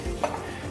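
Chilies and garlic cook together in a pan: a short burst of stirring and light sizzling with a brief scrape of utensil against the pan, close by and fairly quiet.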